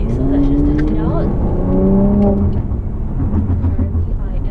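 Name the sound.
2018 Mercedes AMG C43 accelerating in comfort mode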